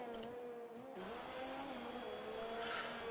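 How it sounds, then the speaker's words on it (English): A Formula-style racing car in a video game at the Hungary circuit, engine whining at high revs with a smooth tonal pitch rising and shifting through gears, steady and fairly faint, no voice over it. "Puts the throttle down nice and late"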